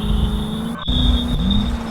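A car on a road in a stunt clip: a steady, close engine drone with a short break, then the engine comes back a little louder as if pulling away. No voices are heard.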